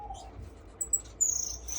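Baby parrot finches in a bird room give faint, high, thin chirps in a few short bursts over a quiet background.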